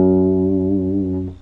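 A guitar on the low E string plays a song's bass part, a single sustained, harmonically rich note ringing clearly and alone before being cut off near the end.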